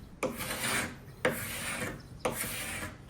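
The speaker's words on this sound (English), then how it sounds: "then I actually had to move on to my carbide scraper just so that I can get more of that finish off" A carbide scraper drags across wood, stripping old finish in three long, rasping strokes. Each begins with a sharp bite and then grinds steadily and close up.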